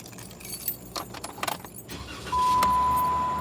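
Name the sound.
car being started with keys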